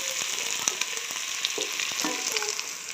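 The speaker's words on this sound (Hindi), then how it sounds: "अभी इनको भी फ्राई करती हूँ घी में अच्छी तरह।" Onions and chilies frying in ghee give a steady close sizzle, with light scrapes and taps of a stirring spoon scattered through it.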